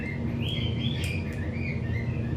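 Game birds in Microsoft Flight Simulator 2020 chirp a high warning trill in short repeated bursts, heard over the steady low drone of a King Air turboprop cabin during a landing approach.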